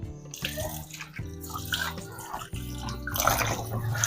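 Brined mutton, soaked in vinegar, salt and water, is washed under a running kitchen tap, with a continuous splashing stream and occasional bursts as the meat is handled.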